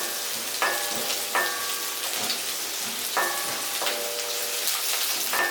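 Curry leaves sizzle loudly in hot oil in a pan for raw mango rice, a steady frying hiss with several sharp crackling bursts as the leaves hit and spit, close and continuous with no talking.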